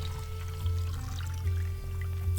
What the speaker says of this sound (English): The water cooler is the perfect place to get a cool drink.